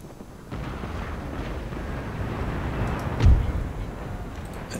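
A warship's cannon fires in Empire Total War, one heavy distant boom rising out of a steady rumble of battle ambience, with no voices.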